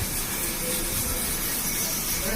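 A French omelette, folded into a half-moon shape, cooks in a pan with a steady, continuous sizzle and hiss, fairly loud and even throughout with no talking.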